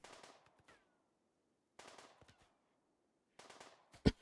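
Gunfire in the colony game Rimworld comes in three short, rapid bursts separated by quiet gaps, ending with one louder, punchier shot.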